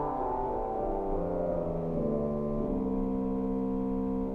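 A 1907 Emmons Howard pipe organ sounds sustained low bass notes, a dense, steady drone of overlapping tones that shift pitch slowly and hold at an even loudness throughout, with no voices.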